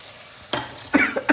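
Chili and spices hit hot oil in a frying pan for Indian shahi paneer, bursting into a loud close sizzle, followed by sharp scraping stirs and further hissing flare-ups.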